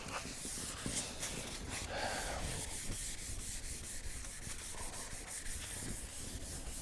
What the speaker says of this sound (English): Sand everything, make sure it's not shiny anywhere.